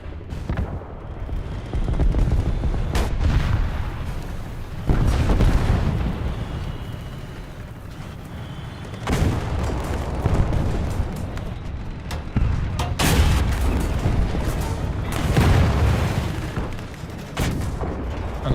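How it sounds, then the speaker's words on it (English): Sustained gunfire and booming blasts from infantry fighting in a war video game, rolling on continuously at loud, dense volume with heavy low rumble and repeated sharp bursts, no speech. "we're all just shooting each other through smoke"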